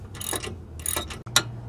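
A 3/4 inch socket and ratchet wrench tighten the bolt on a RockyMounts HighNoon FC hitch bike rack for two bikes, giving three quick bursts of close metallic ratchet clicking with short pauses between strokes.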